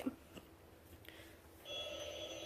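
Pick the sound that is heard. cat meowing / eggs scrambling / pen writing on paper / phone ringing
phone ringing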